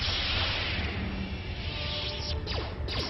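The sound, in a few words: lightsaber throw in video game Star Wars KOTOR 2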